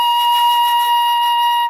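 One held B flat on a flute, clear and steady with a breathy edge, sounds alone at close range before cutting off.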